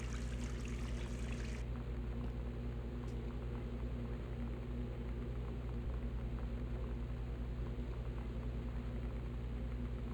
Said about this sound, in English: Hey, look, the water dispenser works.